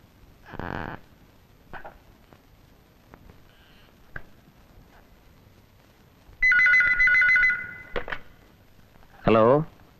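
A telephone ringing with an incoming call, a bright electronic ring heard in short bursts amid quiet room sound and brief knocks.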